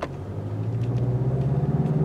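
A Mazda car with radar cruise control pulls away from a standstill, its engine rumble building steadily and close by, with no one talking.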